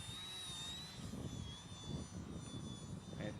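A DW Hobby Shining V2 RC airplane with its new V2 motor and 11-inch propeller, flying at just under half throttle, gives a steady, faint high-pitched electric whine with a low rumbling wind-like undertone.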